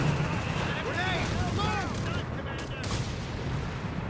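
Machine gun fire in Company of Heroes 3 rattles in rapid bursts amid a dense battlefield din of shots and whizzing shells, while a commentator talks over the fighting throughout.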